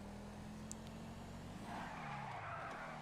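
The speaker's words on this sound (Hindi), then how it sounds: "ये ड्रिफ्ट मारने की गाड़ी थोड़ी है, मेहरान पर ड्रिफ्ट मार रहे हो" A Suzuki Mehran drifting in GTA 5 with a low engine hum, then a rising tire squeal as the car slides, moderately loud and heard alone.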